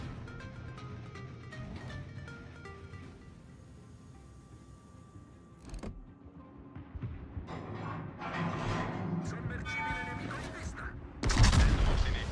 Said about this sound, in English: The guns on this ship, man, they just perform.